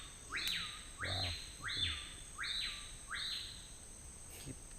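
A balateiro bird singing in a forest, five repeated rising-then-falling whistled phrases at a steady pace over quiet insect hum, fairly faint and without talk.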